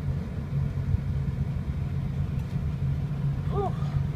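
A warm 2006 Ford F250 diesel 4x4 Lariat engine idles steadily with a low, even rumble, close by, with a faint brief squeak near the end.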